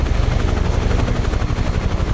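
A UH-1H helicopter lifts off in Microsoft Flight Simulator, its rotor throbbing in a fast, steady beat over a dense engine roar that stays loud throughout, with no voices.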